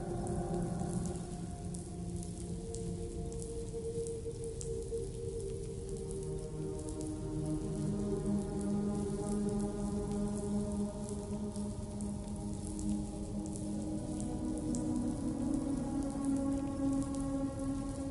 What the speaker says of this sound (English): Those raindrops are falling on my head.